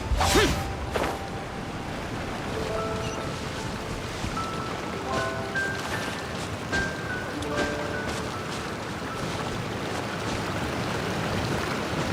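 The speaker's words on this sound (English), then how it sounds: "There's the waterfall, and up there's something." A waterfall in the game Genshin Impact, a steady broadband rush of falling water running throughout, with soft chime-like game tones and a brief whoosh at the start.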